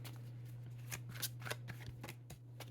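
Tarot cards being shuffled by hand: a run of crisp, rapid riffles and slaps in irregular bursts, close and fairly quiet, over a steady low electrical hum.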